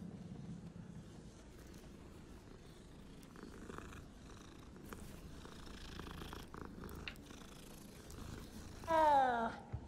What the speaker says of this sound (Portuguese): Olha, gatinhos.